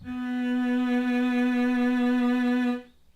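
A single sustained bowed violin B note in first position, steady and clear, held for nearly three seconds before stopping.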